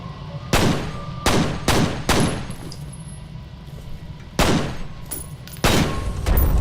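Gunfire in the F.E.A.R. video game: six loud, sharp shots in irregular bursts, each ringing out with a short decay over a low background hum.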